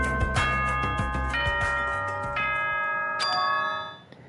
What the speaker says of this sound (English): Was that a school bell just now?